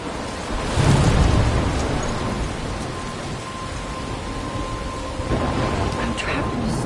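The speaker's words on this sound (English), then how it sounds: "I'm trapped in a storm?" Thunderstorm in the God of War video game: steady heavy rain hiss with low rumbling thunder swells near the start and again toward the end, continuous and fairly loud throughout.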